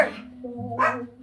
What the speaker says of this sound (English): Killer likes to bark like that.